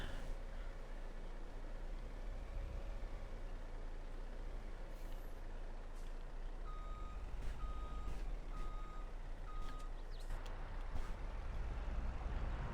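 Repeated reversing beeps from a truck backing up to hook onto a large trailer in Farming Simulator 22, a steady series of short tones over a constant engine drone, with a hiss of air brakes near the end.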